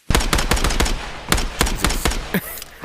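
Rapid bursts of gunfire in a VR shooter game, a quick run of sharp shots followed by a second volley after a short gap, loud and close with no talking.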